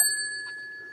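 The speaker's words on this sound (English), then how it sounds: "It's exactly the same type of bell as on the Ericsson's phone" A telephone bell of the same type as on a Swedish Ericsson phone gives a single bright metallic strike, ringing on with a clear sustained tone that fades slowly, heard alone and close.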